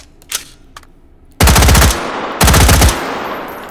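Model 601 AR-15 rifle firing full-auto in a forest in the H3VR video game, two loud bursts of rapid shots, each about half a second long, following a few faint clicks, with a lingering reverberant tail.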